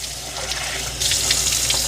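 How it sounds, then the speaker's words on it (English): Tap water runs into the clean water tank of a Mova S10 Plus robot vacuum, a steady close hiss of pouring that swells louder partway through. "let's fill the clean water tank up"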